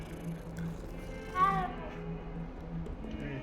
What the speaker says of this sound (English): Ah, there's a cat.